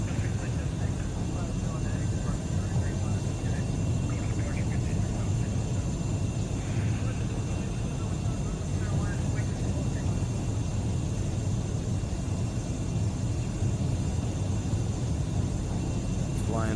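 Steady, loud broadband drone of a light airplane cruising in a VR flight game over the Australian Outback near Alice Springs Airport, with engine and wind roar constant throughout.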